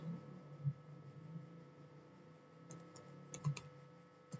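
Faint typing on a computer keyboard as a network switch command is entered: a few scattered soft key taps, then a small cluster of clicks near the end over a low background hum.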